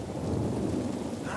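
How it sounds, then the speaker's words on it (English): Heavy rain pours in a night storm in The Last of Us, a loud, steady wash of roaring noise with a deep rumble underneath and no voices. "it's actually a pouring storm at night. Yeah. There's heavy rain, darkness, poor visibility"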